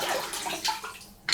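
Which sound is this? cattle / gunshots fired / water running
water running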